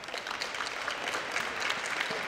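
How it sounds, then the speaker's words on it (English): A crowd at a women's college basketball game between Mohawk and Lambton claps for an injured player as she gets back to her feet, a dense, continuous patter of applause heard from the stands, steady throughout with no clear voices. "a great show of respect here from the crowd, clapping as she makes her way slowly back to her feet"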